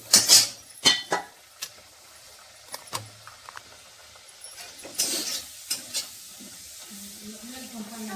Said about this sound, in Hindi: वही पूड़ी बन गई, तल देते हैं।